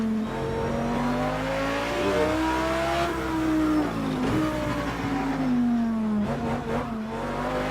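A race car engine in a Long Beach endurance racing game revs loud and close, its pitch rising and falling steadily with gear changes and brief dips, with no talk.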